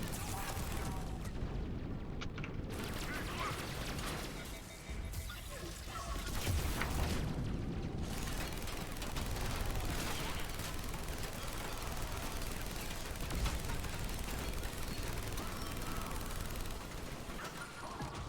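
Sustained firefight in Mass Effect 3 multiplayer: bursts of automatic gunfire and heavier booming explosions roll on without letup, loud and crowded, with occasional brief dips in the barrage.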